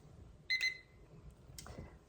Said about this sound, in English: The timer has gone off again.